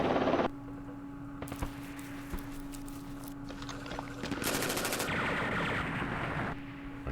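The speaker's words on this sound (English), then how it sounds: "Machine gun." Machine gun fire in a desert war video game, several bursts of rapid crackling shots over a steady low game hum, moderately loud and close, with no talk.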